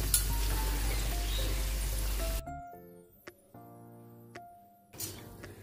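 Lentils frying in hot oil for chanachur hiss and sizzle loudly, then the sizzling cuts off as they are lifted out, leaving quieter clinks and scraping of a utensil before a brief burst of sizzle returns.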